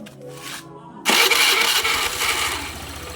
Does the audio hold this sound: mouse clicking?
no